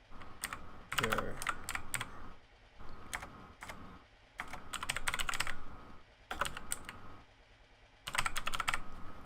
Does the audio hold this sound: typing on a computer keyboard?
yes